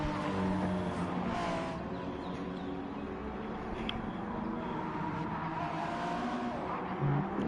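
A hypercar closing in to lap slower cars at Monza in a racing video game, engine drone steady and continuous with layered tones from several nearby cars, fairly loud throughout.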